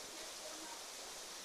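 She Oak Falls, a tame waterfall running over dark rocks into a small pool, gives off a steady, even rushing hiss with no breaks.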